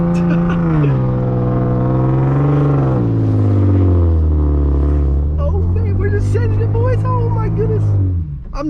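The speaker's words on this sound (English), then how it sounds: "turn your wheel all the way to the side, except in this one, you find yourself a nice open field and then you just floor it" A 370hp Genesis Coupe 3.8 is floored with the wheel turned to full lock in an open field. The loud, close engine roar holds steady and then climbs in pitch, with squealing tire noise breaking in toward the end.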